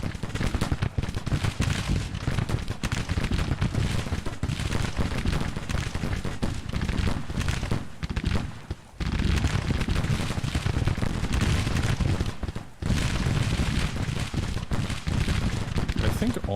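Musket volleys and artillery fire in the Grand Tactician: The Civil War strategy game make a dense, continuous crackling roar, with two brief dips near the end.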